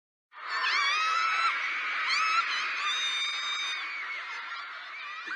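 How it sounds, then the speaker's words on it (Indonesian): Girls screaming at their idols, a sustained chorus of high-pitched shrieks that erupts suddenly and carries on loud and continuous for several seconds, with no talking. "Seperti anak-anak perempuan yang berteriak-teriak kepada idola mereka."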